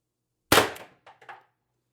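One sharp, close crack from an Umarex TR50 air rifle fitted with a tuning barrel, followed by a few short, softer metallic clicks as it settles, then silence.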